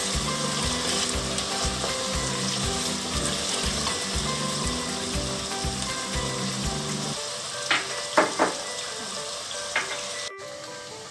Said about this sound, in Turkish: Şimdi bunlar hafif kavrulsunlar biraz.